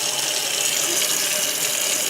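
Ordinary hot tap water pouring steadily from a kitchen faucet into a measuring cup in a sink, a continuous close hiss and splash with no talking.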